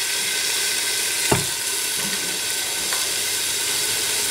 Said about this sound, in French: Je vais colorer les morceaux de viande d'agneau que gigot avec.